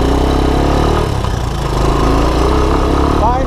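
Honda ATC200ES Big Red ATV engine running steadily at a constant idle-like throttle, a loud, close, continuous mechanical hum with a brief dip partway through and no talking.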